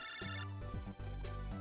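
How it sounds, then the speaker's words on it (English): A phone ringtone in the video game MegaMan Battle Network 5, a bright electronic tune repeating over steady game music, loud and continuous. "It's your phone."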